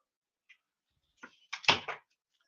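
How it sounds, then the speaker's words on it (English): A door is shut indoors: a few soft rustles and a creak lead into a firm thud with a brief rattle, then quiet. "I'll shut the door"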